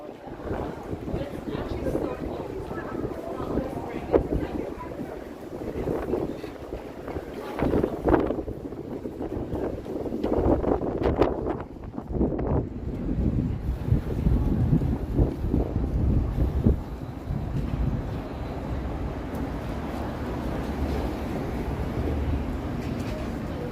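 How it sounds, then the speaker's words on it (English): Wind gusting along a downtown Toronto city street on a mild afternoon, a rushing, buffeting roar that swells and fades in uneven gusts, fairly loud and close. "I'd rather be pushed by the wind than have it blow in my face"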